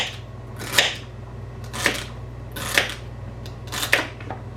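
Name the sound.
chopping celery stalks with a knife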